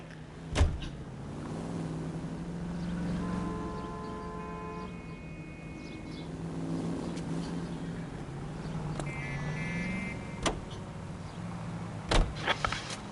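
Car in the video game LA Noire, a low steady engine hum while driving, with a few sharp clunks and short tonal electronic cues layered over it.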